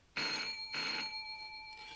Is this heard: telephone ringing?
yes